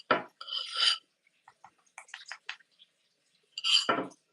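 Cake mixture scooped back into a bowl, heard as a few close, separate scrapes and clinks of a utensil against the bowl, with short pauses between them and no talk.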